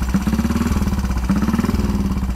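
A motorcycle engine runs steadily at a roadside stop, a loud, close, pulsing throb that holds an even rhythm throughout, with no talking over it.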